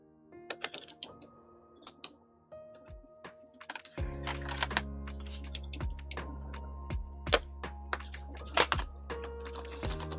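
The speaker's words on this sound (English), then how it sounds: "This is the avocado and copper keyboard we're going to use for this build today." Typing on an avocado and copper Neo70 mechanical keyboard, a steady run of crisp, close keystrokes with deeper thocks and occasional louder clacks, no talk.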